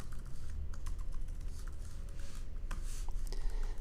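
Computer keyboard keys tapped in quick, irregular bursts while code is typed, close and fairly quiet, with no voices.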